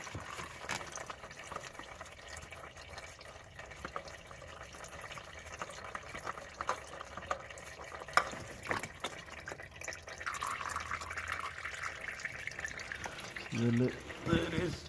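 Used engine oil drains from a Honda Civic in a faint, steady trickle and drip beneath soft background noise, with a brief louder splash near the end.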